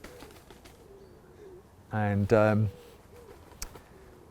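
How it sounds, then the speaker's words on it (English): Two wood pigeons coo in a close, loud, harmonic burst, two back-to-back phrases lasting under a second, over faint outdoor background with a brief spoken word. "What are you doing, you crazy wood pigeons?"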